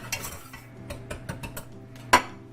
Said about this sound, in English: we're just going to give this a dry mix here, just to make sure we don't have any clumps of anything